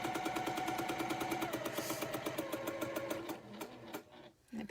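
A fast Juki sewing machine runs at speed with a rapid, even needle chatter and motor whine, then slows and stops near the end, with no talking over it.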